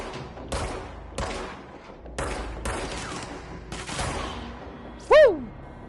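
Pistol gunfire in the video game Control, a string of sharp, loud single shots spaced roughly every half second to second, each with a short echoing tail, followed by a brief whooshing pitched effect near the end.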